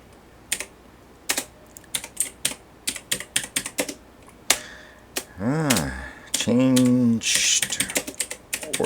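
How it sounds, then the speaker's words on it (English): Rapid keystrokes on a computer keyboard while entering an edit reason for a Shopify order, clicking in irregular bursts up close, interrupted midway by two brief electronic sweeping tones before the tapping resumes. "I should go down to the bottom and type in the reason for the edit"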